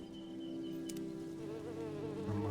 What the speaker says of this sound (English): And the wasp from my birds mod.